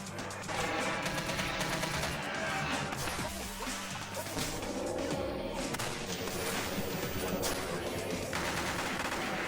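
Rapid bursts of gunfire fill a shootout in Vampire: The Masquerade – Bloodlines, dense overlapping shots and crashes rattling steadily over a game soundtrack for the whole stretch.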